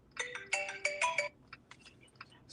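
A phone ringtone for an incoming call plays a quick bright melodic chime pattern, clear and fairly close, then continues in softer broken bursts.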